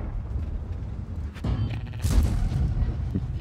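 Tank cannon fire in World of Tanks, with the Renegade tank in play: two heavy booms about a second apart, each a sharp blast trailing into a rumbling echo over a low battle drone.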